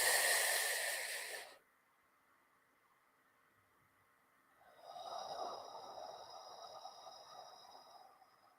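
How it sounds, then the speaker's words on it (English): Deep breathing through the mouth during a guided relaxation session, a loud close exhale that cuts off, a pause, then a softer, airy breath with a faint steady tone underneath. "As you're doing your deep breathing through the mouth"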